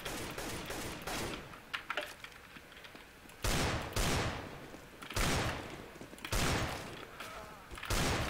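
Sniper rifle shots ring out in a video game, several loud broadband cracks spaced a second or two apart with decaying tails, under a busy layer of game noise and scattered voices.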